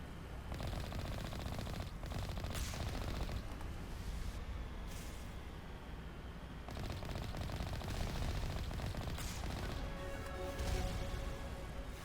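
Enemy gunfire in Mass Effect: Legendary Edition rattles in dense, continuous machine-gun bursts with heavy impacts and crashes, loud and close, with brief lulls between volleys.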